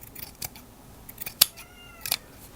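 Scissors snipping through lace-edged fabric during a garment alteration, heard as a few quiet, sharp cuts spaced apart in a still room with no talking.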